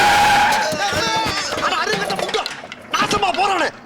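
A car brakes hard and its tires skid, a harsh squealing screech up front, then a fainter stretch and a second short burst of screeching near the end, with voices and chatter mixed in.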